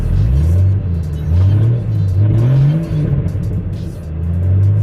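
A Jeep engine revs unevenly as the gas is blipped, its low rumble surging and sagging as it sputters toward stalling, loud and close with no talk over it.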